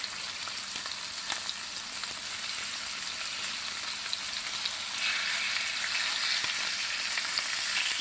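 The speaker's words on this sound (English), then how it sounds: "While we're searing the roast." A chuck roast sears in a hot pan with a loud, steady hiss and crackle of fat, continuous throughout and growing slightly louder toward the end, with no talking.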